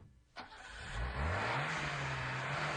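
A new car's engine starts and revs, the note climbing steadily in pitch and holding at a loud, even drone.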